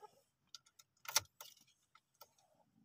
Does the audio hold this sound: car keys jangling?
yes